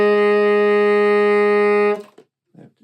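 Tenor saxophone sounding a B flat, one long sustained note held steadily for about two seconds with a rich harmonic tone, then a brief breath and a faint rustle after it stops.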